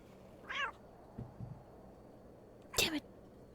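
A cat meows in the point-and-click horror game The Excavation of Hob's Barrows, two distinct meows, the second louder and longer, with faint low murmurs between them.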